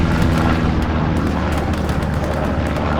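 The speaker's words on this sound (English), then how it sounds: "AT rocket missing." A deep, rumbling anti-tank rocket impact in the World War II shooter Hell Let Loose rolls out as a sustained low boom lasting a few seconds, fairly loud with no voices.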